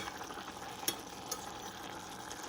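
Green beans cook down in a pan of evaporating liquid, giving a soft, steady sizzle with a couple of brief stirring clinks, close and quiet, with no voices.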